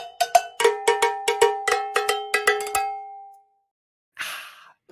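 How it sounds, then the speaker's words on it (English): A cowbell struck about a dozen times in a quick, slightly uneven rhythm, bright metallic clanks ringing close and clear, then silence and a short breathy noise near the end; no one speaks. "Oh, you want cowbell? All right."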